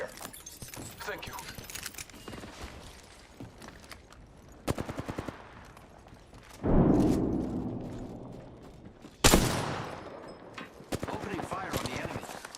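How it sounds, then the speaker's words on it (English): Video game combat in a battle-royale style shooter: sharp bursts of gunfire and mechanical clatter, with a couple of loud booming impacts, mixed under brief voiced game callouts. "Opening fire on the enemy."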